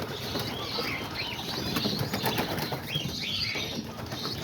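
Homing pigeons burst out of their loft in a flurry of flapping wings, a close, busy rush of wingbeats with a few soft coos and chirps mixed in.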